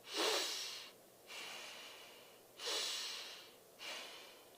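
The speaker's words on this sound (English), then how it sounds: "Keep your hand in your chest right now here and just keep breathing." Four slow, deliberate breaths, alternating inhale and exhale with short pauses between, close and fairly loud against a quiet background with no talking.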